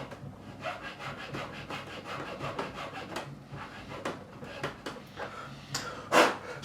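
A fine saw cuts nut slots on a Gretsch G5422 12-string guitar, giving soft, quick rasping strokes in an uneven rhythm, close by and fairly quiet, with one sharper scrape near the end.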